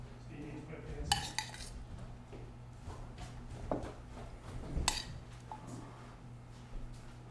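Metal serving spoons scrape and clink against pots while rice, carrots and black beans are dished out, a few sharp clanks standing out over quiet kitchen background, with faint talk at times.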